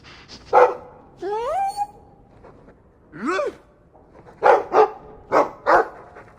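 A dog in the video game Dragon Age 2 gives a series of close, loud barks and whining yips, several short barks in a row near the end.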